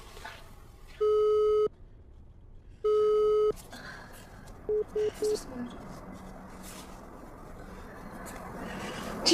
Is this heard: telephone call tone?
yes